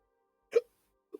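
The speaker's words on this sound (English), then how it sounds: "Hiccups." A single sharp, close hiccup bursts out of silence, followed about half a second later by a smaller, softer vocal catch.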